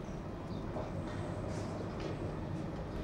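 A tram runs along its rails with a steady low rumble and rolling noise, faint-to-moderate and continuous, with no voices over it.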